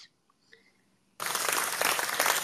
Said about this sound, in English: I just gave myself an applause.